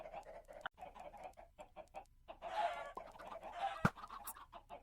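Minecraft chickens clucking in the game, a series of short, choppy clucks repeating at an uneven pace, fairly close and alone with no talking.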